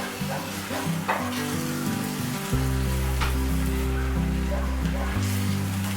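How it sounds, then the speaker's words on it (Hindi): Eggplant and spices fry and sizzle in a clay pot over a gas flame, with a wooden spoon stirring in steady scraping strokes, loud and close, under a low steady hum and no talk. "मसालों को हमें अच्छे से भून लेना है।"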